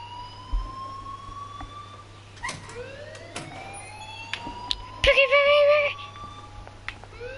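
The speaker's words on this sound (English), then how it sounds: "please turn off that alarm since that's your job" An alarm in the game Life is Strange wails steadily in rising, sweeping tones, with a louder burst of ringing near the end and faint game sounds around it.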